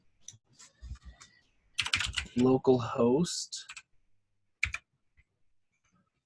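Keystrokes clatter on a computer keyboard in a web development setting, scattered clicks at the start and end, with someone talking loudly in the middle over the typing.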